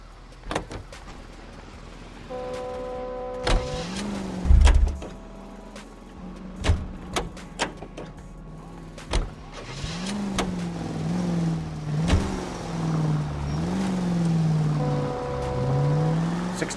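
A car driving in L.A. Noire, its engine rising and falling in a wavering hum as it accelerates, with scattered bumps, clicks and ambient game noises around it.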